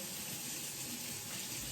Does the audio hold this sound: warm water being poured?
yes